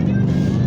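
An Amazon Prime truck trailer passes close by on the road, a loud steady low rumble of tires and engine filling the short stretch, with no one speaking over it.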